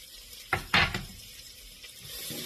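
Sliced onion hitting hot bacon fat in a pot gives two sharp bursts of sizzle near the start, then a steady low frying hiss with faint stirring, close and moderately loud.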